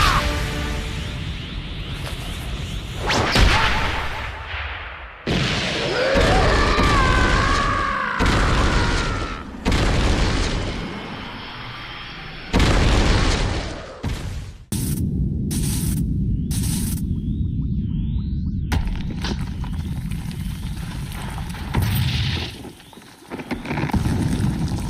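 Violent anime punch impacts from Vegeta's fight land as heavy booms and whooshes, loud and abrupt, broken up by sudden cuts and stretches of crackling static.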